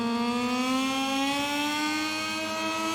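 Motorcycle engine in MotoGP 22 during the French GP race, a steady high-pitched whine with rich harmonics that climbs slowly in pitch, loud and continuous throughout with no talking.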